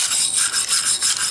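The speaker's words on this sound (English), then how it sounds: "Wire brush." A wire brush scrubs loosened rust and flakes off a steel Viking axe head, a steady, close, hissing rasp in repeated back-and-forth strokes with slight dips between passes.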